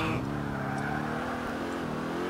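A car at full throttle in GTA IV, its engine droning steadily with a rising, revving tone throughout, fairly close and continuous.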